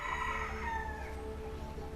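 A rooster crows in a long, drawn-out call over a steady low background hum, moderately close and with no talking.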